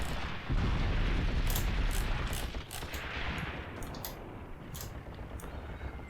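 Machine gun fire in the tank combat game Tank Warfare: Tunisia 1943, on Longstop Hill: sharp, rapid bursts crackling over a heavy, continuous rumble of battle, loud at first and easing slightly later.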